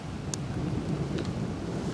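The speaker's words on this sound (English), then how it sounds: "So we got fucking hail" Hail falls in a storm onto a pine tree and the ground beneath it, a steady rushing patter broken by a few sharp, separate hits.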